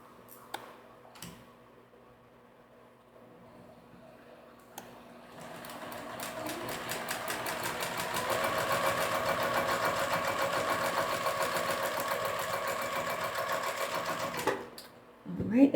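Home sewing machine stitching along fabric bookmarks with 50-weight thread, starting after a few faint knocks and running as a steady, fast mechanical whir with rapid ticking for about ten seconds before stopping with a clunk.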